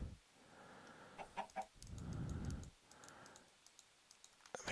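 Minecraft chickens cluck in short bursts, a few clear clucks early on, then a longer low fluttering stretch and scattered faint ticks, with no voices.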